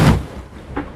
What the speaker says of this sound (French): là il y a une vague qui vient de s'écraser sur le pont